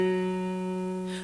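One steady G flat note from a music-reading lesson holds evenly for just over a second, clean and sustained with no other sound around it.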